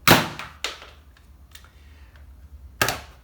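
A Nerf Elite FalconFire pistol blaster firing a dart, a sharp, close pop at the start followed by a few quieter mechanical clicks and clacks of the blaster being handled, with no talk.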